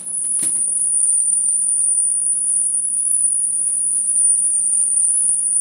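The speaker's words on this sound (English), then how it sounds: "What the hell's that squealing noise? Outside. Well, that's crickets." Crickets chirping outdoors, a continuous high-pitched shrill trill holding steady throughout, with a brief thump near the start and no voices.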